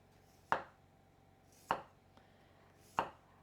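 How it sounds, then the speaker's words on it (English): Three crisp, separate knife strokes through potatoes on a cutting board, evenly spaced about a second apart, close and fairly quiet in an otherwise still kitchen. "Now I'm going to take my best knife and then just slice these potatoes very thin."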